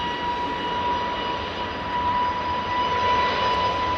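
Roar of an Air Canada airliner taking off at Heathrow Airport, a loud, steady jet engine rumble with a sustained whine and no pauses.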